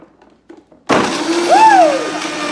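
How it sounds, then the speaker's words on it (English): A kitchen blender kicks on abruptly after a quiet pause, whirring loudly and steadily as it blends a green smoothie, with the motor pitch sliding as the contents churn. "Turning on my blender, and watch how fast and easy this is."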